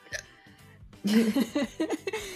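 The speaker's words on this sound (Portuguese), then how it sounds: "Eu tô com soluço." A person hiccups several times in quick succession, short sharp voiced catches close to the microphone, with some breathy vocal noise around them.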